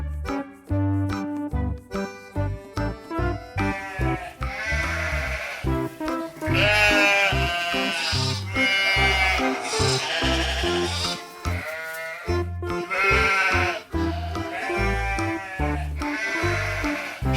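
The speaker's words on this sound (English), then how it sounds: "Sheep." Sheep bleat repeatedly, loud and close, in long wavering cries over a rhythmic musical backing.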